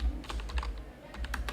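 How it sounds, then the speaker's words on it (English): Keys typed on a computer keyboard while entering records into a database form: a steady, close run of light clicks and taps in short irregular bursts, with no voices. "Now type in the ID, I will type 1"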